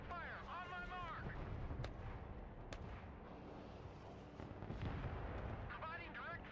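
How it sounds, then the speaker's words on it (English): M1 Abrams tanks fire directly at targets in the Broken Arrow multiplayer war game, heavy booming cannon shots and rumbling blasts layered over continuous battle noise, with radio voices talking throughout. "Engaging targets with direct fire"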